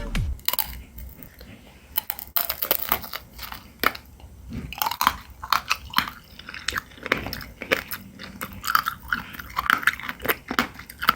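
Close, crisp crunching and steady chewing of a candied tanghulu strawberry, with sharp bites of the hard sugar shell breaking apart in irregular bursts over several seconds, with no talking.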